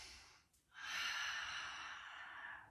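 A single deep breath taken during gentle beginner's yoga practice: a quiet brief intake, then a long, soft, airy exhale close to the microphone, heard alone.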